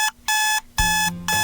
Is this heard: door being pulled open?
no